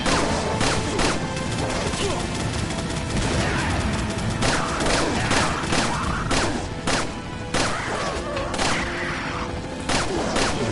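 Sustained minigun fire in a Resident Evil cutscene, dense rapid bursts and crashing impacts filling the whole stretch at close, loud level with no pauses.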